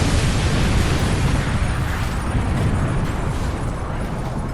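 A loud, sustained roaring explosion effect during a tabletop role-playing game session, with dense low rumble and broad crackling noise filling several seconds and fading only slightly, with no talk over it.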